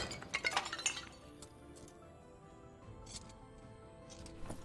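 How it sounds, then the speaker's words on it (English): Clay pots smashed in the Dark and Darker dungeon game, a quick cluster of cracking, clinking breaks at the start followed by a couple of fainter scattered cracks against quiet ambience. "Smashing up the pots that are left."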